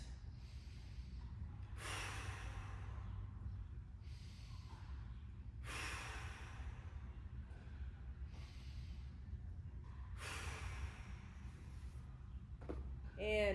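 Three big, deep breaths taken during a mobility breathing exercise, each a long airy inhale-exhale surge spaced about four seconds apart, close and alone against a quiet room.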